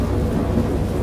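Thunder in a great storm rumbles as a steady, loud, deep roll under rain-like noise, with no pause and no voices.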